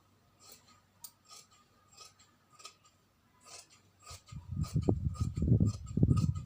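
Scissors cutting fabric by hand for a sewing pattern: a series of soft snips at first, then a louder stretch of rasping, crunchy cuts close by.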